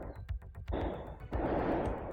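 Fireworks going off outdoors in the distance, a quick ragged series of pops followed by two longer crackling, rumbling bursts, moderately faint and layered over background noise.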